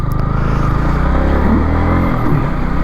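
A Yamaha MT-15 motorcycle engine runs steadily right next to the listener, a loud, continuous low rumble with a slight rise and fall in pitch and no voices.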